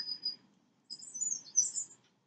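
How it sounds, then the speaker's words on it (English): Small birds chirp and tweet at a bird feeder in two bursts of high, bright calls with a short gap between them, fairly faint over a low background hum. "I have cat TV on for her. Birds eating out of a bird feeder, and she just watches"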